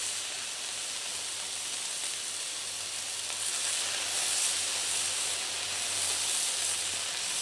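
Pork chops sizzling on a Blackstone griddle, a steady close hiss of frying that swells slightly partway through, with no talking over it.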